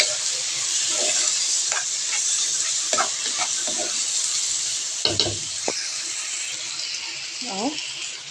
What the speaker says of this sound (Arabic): هننزل بالرز نشوحه تشويحة